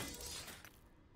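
Items shattering in the Last Epoch action game, a bright crash of breaking glassy fragments that bursts and then trails off within about a second, fairly quiet.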